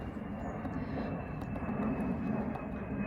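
Airplanes pass overhead above a Japanese-style garden in the UK, a faint, steady low engine drone that swells slightly and carries on without a break.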